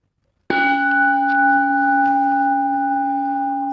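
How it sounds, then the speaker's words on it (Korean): A Buddhist temple bell at Yeongiram hermitage is struck once, loud and close, then hums on in a long, steady, slowly fading ring. "이 종소리에 꿈을 깨시라."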